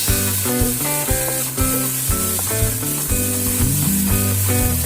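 Tomatoes fry in a pan with a steady, close sizzle, while a loud music track with a bouncing beat plays over it the whole time.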